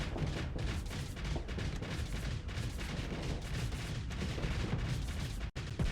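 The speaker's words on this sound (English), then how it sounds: "Let's try putting the squalls on auto fire and see how that works." Squall weapons on auto fire in a starship game pound continuously in a dense, loud stream of rapid booming shots, with a brief dropout near the end.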